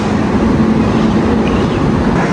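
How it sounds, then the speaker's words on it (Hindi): The Rajdhani Express stands at a busy railway platform, a loud, steady mechanical rumble and hum from the train filling the short stretch without voices. "friends you can see this is Rajdhani express force 2221"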